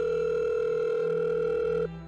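A telephone line gives a loud, steady electronic tone as a call is placed. It holds for almost two seconds, then cuts off abruptly into quieter hum.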